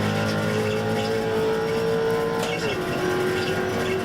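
Race cars in the iRacing sim roar steadily as faster classes overtake slower cars, with a sustained engine drone whose pitch drops midway as one car shifts or pulls past.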